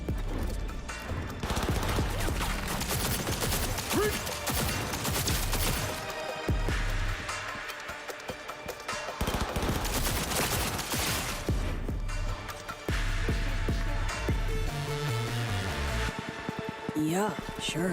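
Rapid bursts of gunfire in the video game Cyberpunk 2077: Phantom Liberty, dense volleys of shots and impacts rattling over several seconds with brief lulls, game voices briefly mixed in.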